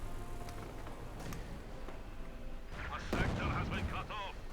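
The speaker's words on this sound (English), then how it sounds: "Heavy fire being deployed there." Heavy gunfire and explosions rumble through a Company of Heroes 2 battle between the Wehrmacht and the Soviets, sounding as dense crackling bursts with a sharper volley near the end under the ongoing game din.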